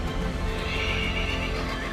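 Horses at the royal stables of Versailles neigh and whinny over a steady patter of clip-clopping hooves, a dense, continuous herd sound held at an even, fairly loud level throughout.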